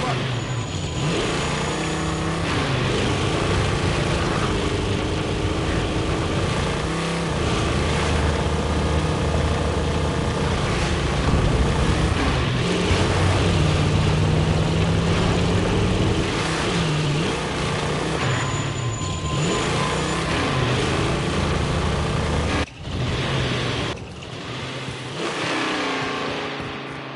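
Vehicle driven in the Warzone video game, a steady loud engine drone with revving swells lasting throughout, briefly cut near the end, with game voices and noise layered over it.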